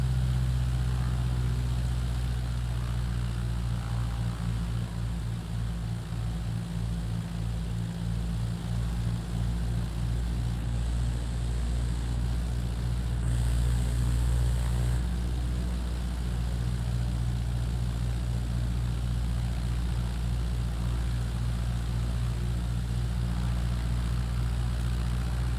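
An airplane engine drones on approach in Microsoft Flight Simulator, a steady, loud, low propeller hum that holds constant throughout with slight pulsing and no pauses.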